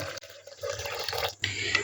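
A glass of water is poured into a container holding sattu powder, ginger, sugar, mint leaves and lemon juice, giving a close, splashy gurgling pour with brief breaks, no speech.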